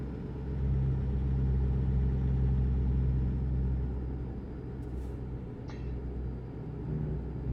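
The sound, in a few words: truck engine in the video game American Truck Simulator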